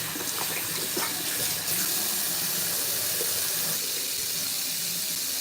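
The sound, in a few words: running water used to dampen hair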